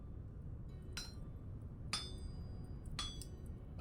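Hammer blows strike a copper saw blade on an anvil in the video game Vintage Story: three bright, ringing metallic clinks about a second apart, faint against a low background hum.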